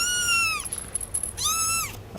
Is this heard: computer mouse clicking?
no